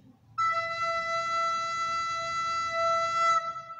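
A recorder (flauta dulce) holds a steady, clear E note for about three seconds over faint room hiss.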